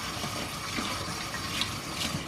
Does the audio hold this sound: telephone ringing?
no